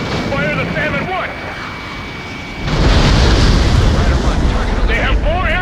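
Heavy bombing explosions in an Ace Combat 7 air-combat game: a steady rumbling barrage swells suddenly and stays loud, with aircraft noise and brief radio chatter woven underneath.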